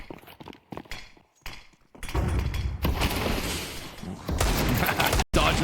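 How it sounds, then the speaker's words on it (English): Rifle fire crackles in Counter-Strike on the map Mirage. After a quieter stretch of scattered shots and footsteps, a dense, continuous barrage of overlapping gunshots sounds loud and close. "Dodging the rifle shots."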